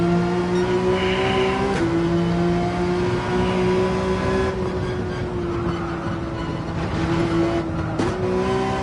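A race car engine in a racing video game holds a steady high drone at full throttle on an uphill run, with brief pitch shifts at gear changes, loud and continuous.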